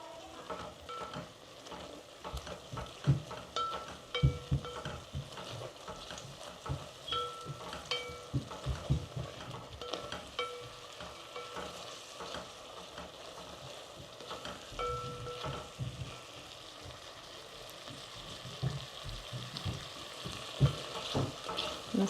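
Tomato and sev masala sizzles and fries in a pan while being stirred, with steady crackling broken by repeated scraping and clattering strokes of the spoon, close and moderately loud throughout.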